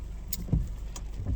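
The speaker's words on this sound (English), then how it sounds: "there goes my windshield wipers going off" Car windshield wipers switch on during rain, giving a couple of brief swishing sweeps over the steady patter of rain and a low cabin hum.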